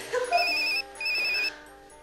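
A telephone rings close and loud, two electronic chirping bursts in quick succession with a short gap between, nothing else around it.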